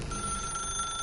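A telephone rings in The Stanley Parable, a thin steady electronic tone that is fairly faint and continuous for about a second against a dense background hum.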